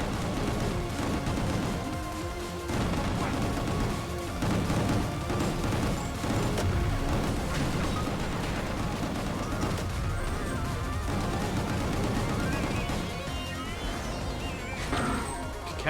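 Pistol fire in the video game Gungrave G.O.R.E crackles in dense, rapid bursts among crashing impacts and action-game music, loud and continuous throughout.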